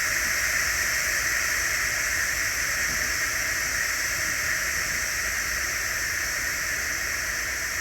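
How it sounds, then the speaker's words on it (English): Steam vents steadily from the release valve of an electric pressure cooker after cooking baked potato soup, a loud, continuous, even hiss with no breaks. "let all the steam escape and all the pressure escape out of your machine"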